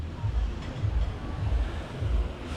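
Calm sea waves wash in at Playa Pelícanos beach in Playa del Carmen, with soft low surges rolling in a slow, regular rhythm about every half second to second, close by and steady under light wind noise.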